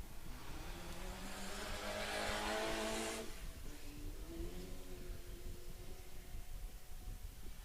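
A small off-road race buggy at the Finke Desert Race roars past with a rising engine note that peaks loudly, then fades as it pulls away into the distance.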